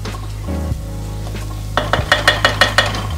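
Dry spice masala frying in a pan for prawn pulao, a steady sizzle under a low hum, then a quick run of rhythmic scraping stirs near the end.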